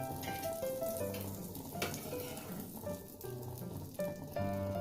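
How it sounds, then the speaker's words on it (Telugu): Butter sizzles and spits in a hot pan, a steady frying crackle with brief louder pops, close and continuous with no talking over it. "ప్యాన్ అనేది హీట్ అయిన తర్వాత కొంచెం బటర్ అనేది యాడ్ చేసుకోవాలి."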